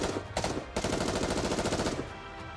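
Gunfire from the video game NIKKE rips out as a rapid, continuous burst of shots over dense rumbling noise, loud and close, lasting a couple of seconds before tapering.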